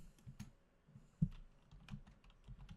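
Keys clatter on a computer keyboard during a modded Minecraft session, a quiet run of soft irregular taps with one sharper louder keystroke near the middle.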